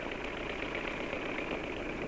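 An engine driven by heat drawn from ice runs with a steady, even mechanical hum, constant and unbroken from start to finish with no voices.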